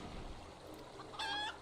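A green-painted tamed rooster named Enkidu in Final Fantasy XIV gives a single short, faint, high-pitched cluck after a quiet stretch.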